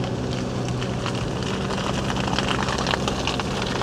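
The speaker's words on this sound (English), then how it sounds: "It's kind of exciting, the sound of the crackling and the heat." A bushfire burns in an Australian rainforest, with dense continuous crackling and popping over a steady roaring rush, loud and close, running throughout without voices.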